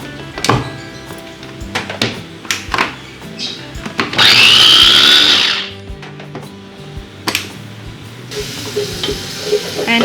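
Kitchen blender pureeing tomatoes for an aloo palak potato-spinach curry, a loud steady whirring burst of about two seconds that starts and stops abruptly amid quieter clatter and stirring.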